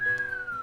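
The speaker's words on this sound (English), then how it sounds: "I whistle." A single short whistled note in the video game Asagao Academy, a thin, slowly falling tone lasting under a second with no talking.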